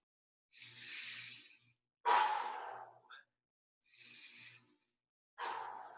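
Heavy breathing during an arm swing exercise: four distinct breaths, alternating breathy inhales and forceful exhales, close and fairly loud with short pauses between them, no talking.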